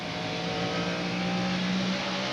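NASCAR Winston Cup race cars circling Bristol Motor Speedway in 1998, a dense, steady engine drone that swells slightly as cars pass, heard at a moderate distance.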